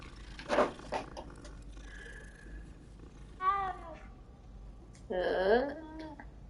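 A cat in the video game Hogwarts Legacy meows several times, with separate short calls spaced across a few seconds over quiet game ambience.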